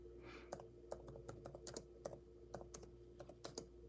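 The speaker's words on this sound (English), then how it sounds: "I'm gonna type it in." Slow, sparse keystrokes on a computer keyboard, typed with one finger, quiet taps spaced out over a steady low hum.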